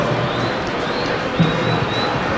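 Steady roar of a football crowd at Wembley Stadium during an England versus Nigeria international friendly, a broad continuous wash of distant voices with a faint swell of cheering midway.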